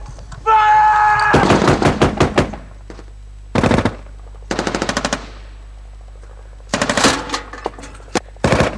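British forces firing rapid bursts at a distant compound in Afghanistan, loud close machine-gun volleys in several separate strings of sharp cracks with short gaps of silence, a brief tone at the start.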